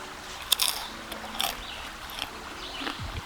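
Crunchy bites and chewing of Cajun-style trail mix with banana and plantain chips, eaten outdoors on a sandy creek bank while backpacking; several sharp crunches close up, then softer chewing.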